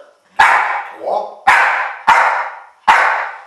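Gamine the dog gives four sharp, loud barks in an uneven counting rhythm close by, with a brief whimper-like sound between the first two and a person talking around them.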